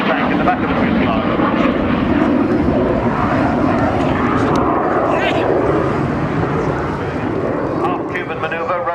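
Rolls-Royce engine of a display aircraft flying at an RAF Cosford air show, a loud continuous roaring drone that holds steady throughout with a commentator's voice running over it.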